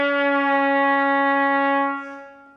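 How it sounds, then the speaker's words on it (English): A trumpet holds a low C sharp, one steady, loud and bright tone lasting about two seconds while the third valve slide is slowly drawn out, then fading away. "Now I'm going to play it and slowly move the slide out."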